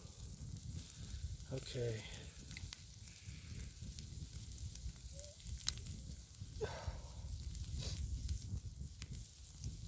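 Kielbasa sizzles on a hot rock set over a Dakota fire hole outdoors, giving a soft, continuous crackling hiss while someone talks briefly nearby.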